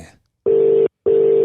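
A telephone rings on an outgoing call with two loud, even ringback tone bursts separated by a short silence.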